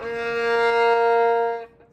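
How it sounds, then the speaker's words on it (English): A single sustained violin note, B flat on the G string, is bowed steadily and evenly, ringing clearly for nearly two seconds before stopping. "So here's our low 2 on G, or B flat. Sounds like this."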